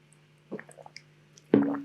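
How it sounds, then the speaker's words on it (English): A sip of water taken close to a microphone: a soft wet slurp, a few small liquid clicks, then a louder gulp and swallow near the end over a quiet steady hum. "For the audio listeners, I just took a sip of water"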